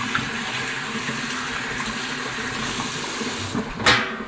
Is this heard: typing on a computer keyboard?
no